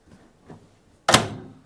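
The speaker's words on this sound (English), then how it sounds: "close the door" A Panasonic NN-CD88 microwave door swings shut with a single firm thud and latch click, preceded by a couple of faint handling sounds.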